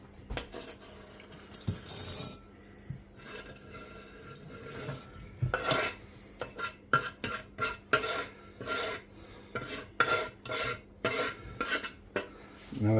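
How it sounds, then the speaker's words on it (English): Chopped chocolate being tipped and scraped into a bowl, with irregular rasping scrapes, clinks of utensil against the bowl, and rustling bits, close and fairly quiet, no one talking. "Now I've chopped the chocolate, just put it into my bowl."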